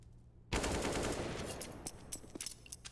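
Rapid rifle fire from a Counter-Strike esports match bursts in abruptly after a brief silence, loud and dense, then trails into scattered shots and clatter.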